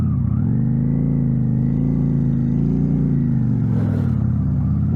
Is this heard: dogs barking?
no